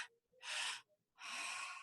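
Two strong, close breaths in a breathwork exercise, each a forceful airy gasp lasting under half a second, separated by a short silent pause.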